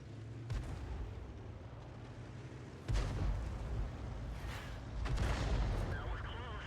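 Artillery fire from a GW Panther self-propelled gun in a tank video game: deep, muffled booms, one sharp report near three seconds and another around five, over a low rumbling game background with a faint voice murmuring.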